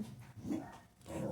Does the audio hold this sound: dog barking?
yes